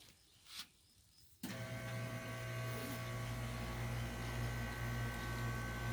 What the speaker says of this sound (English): And sorry for the air conditioner again.